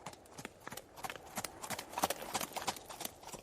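Horses gallop off with quick, overlapping clip-clop hoofbeats that build in density and loudness across a few seconds, like several riders fleeing together.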